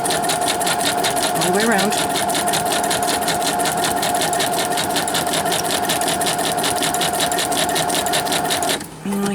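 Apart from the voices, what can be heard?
sewing machine stitching with back stitch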